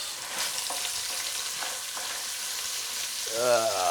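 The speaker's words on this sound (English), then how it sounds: "So now we're going to add some onions and peppers." Onions and peppers sizzle loudly in extremely hot oil in a stew pot, a dense steady crackle and hiss with a louder stirring swell near the end and no talk.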